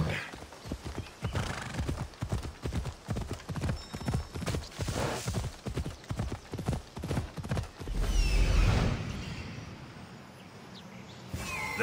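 Horses galloping in Assassin's Creed Odyssey, with rapid, loud, rhythmic hoofbeats close by and a whinny partway through before the hooves fade.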